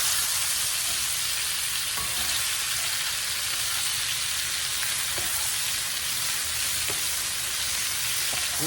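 Cabbage fries in bacon drippings in a skillet with a loud, steady sizzle and crackle, broken by a few soft scraping stirs; no talking.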